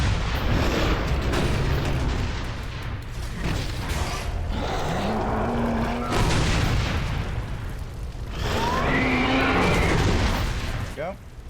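Gunfire and explosions from the Gears of War 2 video game, with loud continuous mechanical clanks, booms and bursts of shooting running throughout, under intermittent talking.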